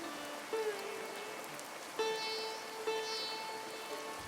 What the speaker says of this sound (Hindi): बाहर बारिश तेज हो चुकी थी।